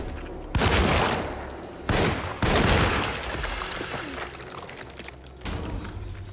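A shotgun fired in the video game Alone in the Dark (2024), with several loud, close blasts at irregular intervals, each followed by a short rumbling decay, no talking over them.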